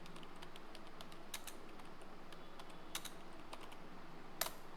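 Someone typing a search on a computer keyboard: quiet, quick clicks of keys at an uneven pace, with a few louder taps standing out, close up and with no talking.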